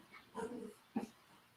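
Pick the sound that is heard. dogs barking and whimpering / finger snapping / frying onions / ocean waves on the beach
dogs barking and whimpering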